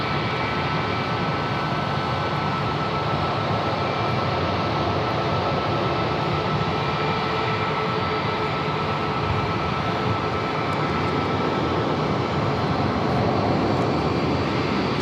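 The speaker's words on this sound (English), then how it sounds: "Max 8 coming in from Chicago, flight" A Boeing 737 Max 8 jet arriving from Chicago at Phoenix Sky Harbor Airport, a steady broad engine roar that holds loud and constant throughout, with no talk over it.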